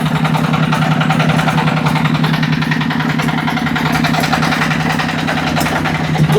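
A three-wheeled generator engine runs steadily after starting, with a loud, close, even idling chug and a pulsing low throb that holds constant throughout, with no talk.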